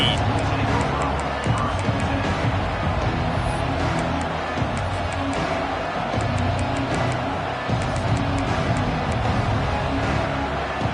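A college football stadium crowd makes a dense, continuous roar of cheering and babble at a steady loud level, with a commentator talking over it.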